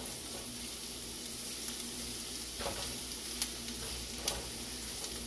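Ginger and garlic sizzle and fry in a pan in a steady hiss, with a few faint clicks and stirring taps over it.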